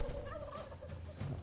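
Chickens cluck and gobble in the video game Dungeons 3, a dense flock of fowl calls warbling continuously at close range with no talking.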